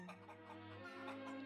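A pet hen, one of three sisters, clucks softly and continuously in a short close burst, low and throaty.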